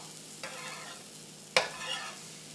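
A pancake sizzling softly in a frying pan, with a faint steady hiss broken by two brief scraping clatters as a spatula slides under it and turns it.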